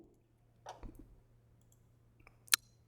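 A few soft, quiet computer mouse clicks, ending in one sharper, louder click, in a nearly silent room while working in a software tool.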